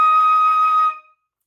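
A flute holds a single sustained high E flat above the staff, a clear steady tone lasting under a second before cutting off and fading into silence.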